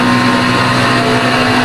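A steady, loud engine drone from an LMP2 prototype race car in the iRacing sim at Spa, held at a constant pitch with no shifts or breaks, no voices over it.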